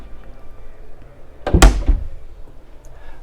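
Storage locker door on a Flipper 900 ST motorboat opened with a single close thunk and brief rattle near the middle, otherwise quiet cabin.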